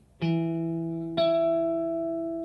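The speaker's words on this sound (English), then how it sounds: "we're on the 9th fret of the G string. And if my calculations have worked, that should be a higher version of E" Two plucked guitar notes, E on the ninth fret of the G string, ring out clearly one after the other about a second apart, each sustaining and slowly fading.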